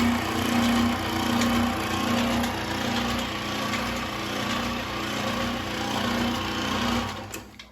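A homemade plastic shredder runs steadily with a whirring motor hum and rhythmic mechanical pulsing, close and continuous, then winds down at the end.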